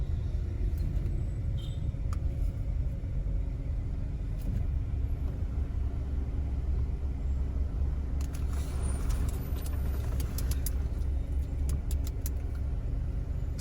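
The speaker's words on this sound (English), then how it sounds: "The vehicles passing me on the right, they're going to make the turn to Mount Salem" Heavy traffic rolls along a road near the Mount Salem turn in Montego Bay, Jamaica, a loud continuous rumble of nearby cars and engines with occasional rattles and clicks.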